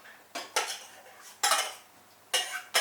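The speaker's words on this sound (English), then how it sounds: "we'll just throw in the onion gravy" Onion gravy thrown into a chuck and mushroom stew in a pot: four short, bright clattering scrapes of metal against the pot, separated by brief pauses, close and fairly loud with no talking.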